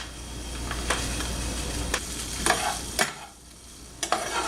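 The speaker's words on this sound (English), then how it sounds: "so we're going to add the beets and the cumin seeds" Beets and cumin seeds frying in a pan reheated to medium-high, giving a steady close sizzle broken by several sharp scraping stirs and clatters of a utensil against the pan.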